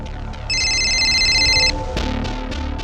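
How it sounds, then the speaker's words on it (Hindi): A single electronic phone ring, a bright warbling tone lasting about a second over a low background rumble, followed by a brief clatter. "खबरी नदीम का फोन है सर"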